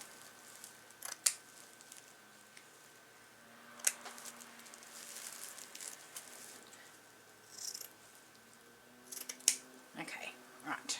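Scissors cut fabric for a spool: a few quiet, scattered snips and crisp clicks spread over a faint, hushed background.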